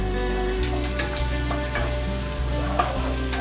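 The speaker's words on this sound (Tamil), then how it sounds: "எண்ணெய் சூடானதும் கட் பண்ணி வச்சுருக்கேன் வெங்காயத்தை போடலாம்" Chopped onions sizzle and crackle in hot oil for a vegetable ragi semiya dish, with a steady close frying hiss, scattered pops and faint stirring, no voices.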